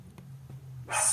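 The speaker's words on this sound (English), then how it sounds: "I'm gonna let her bark." A pet dog indoors at home gives a single sharp bark near the end, loud and close, after a brief stretch of low room hum.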